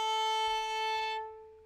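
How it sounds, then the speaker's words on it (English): A viola's open A string bowed for tuning, one long steady sustained note that holds evenly, then fades and thins toward the end with no talking. "So play your A string"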